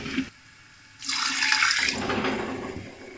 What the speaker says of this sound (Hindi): तो इसमें थोड़ा सा पानी ऐड कर दें